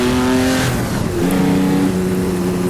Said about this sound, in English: Another car coming around the corner.